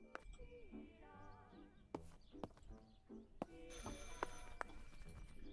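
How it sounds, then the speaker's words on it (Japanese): In the horror game Martha Is Dead, a telephone rings with faint, repeated electronic tones among soft clicks and sharp knocks, all at low volume. "I should pick up the phone but remain silent."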